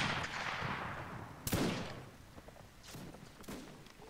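Musket gunfire in the Mount and Musket battle game, with a loud close shot cracking out partway through over a busy battle din, followed by a few fainter distant shots.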